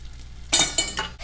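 A spoon scraping and stirring sugar melting with butter in a pan, a soft sizzle with a few quick close strokes and light clinks.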